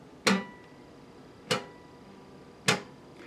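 Three sharp, isolated clicks about a second apart from acoustic guitar strings slapping against the last fret as a hand strikes down on them, close and crisp with quiet gaps between, no voices.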